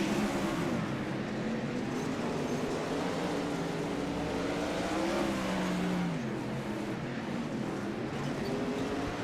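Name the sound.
open-wheel race cars racing at I-55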